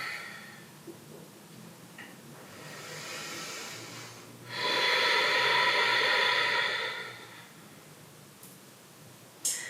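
Deep nasal breathing during a yoga flow, a soft inhale followed by a longer, louder breathy exhale, close and airy, with no voice over it.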